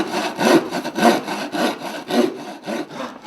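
Wood is hand-sawn to make a traditional wooden comb, with about seven steady back-and-forth strokes in an even rhythm, close and clear, with no talking.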